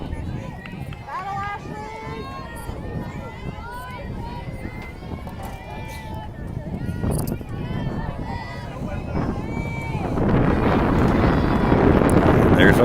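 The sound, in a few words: wind blowing into the microphone at a softball game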